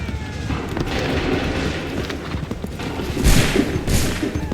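Musket volleys crack out in an Assassin's Creed III battle at Lexington, Concord or Bunker Hill, with a steady roar of gunfire building to two heavy, close bursts near the end.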